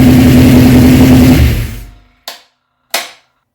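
A home-rebuilt small-block engine on a home-built run stand roars loudly, then winds down to silence, followed by two sharp isolated bangs.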